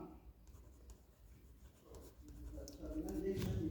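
Chalk or marker scratching across a classroom board while a maths solution is written out. The strokes come in short bursts under a teacher's ongoing speech.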